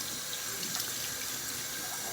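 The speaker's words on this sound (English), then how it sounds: "now I'm going to rinse my face with warm water" Warm water runs steadily from a bathroom sink tap while someone rinses their face, a continuous close hiss and splash with small ripples of splashing and no voices.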